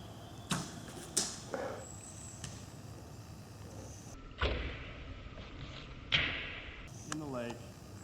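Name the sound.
arrow shot landing in a lake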